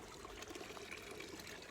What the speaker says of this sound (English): you can see there's a lot of water coming out here because of the rainfall